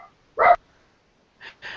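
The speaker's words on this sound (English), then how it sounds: "someone's dog isn't happy." A pet dog gives a single sharp bark, then two shorter, fainter yaps a second later, each standing alone against near silence.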